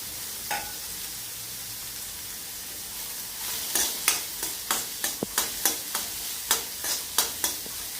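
Onion and peas being sautéed in a pan for a matar palak sabji, with a steady soft sizzle and a run of sharp spatula scrapes and taps that come in a regular rhythm through the second half.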